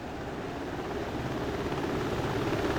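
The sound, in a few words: helicopter landing in DCS World video game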